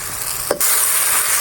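Masala for a karela dish frying on a low flame: a steady, loud sizzle fills the pan, interrupted by a single quick stir or clink before the hiss carries on.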